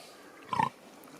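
A pig gives a single short, close grunt over faint background noise.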